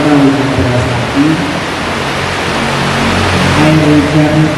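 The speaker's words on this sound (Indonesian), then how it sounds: "Sekarang kita hujan deras lagi." Heavy rain pours in a steady, broad roar, with a low murmur of voices and hum running underneath.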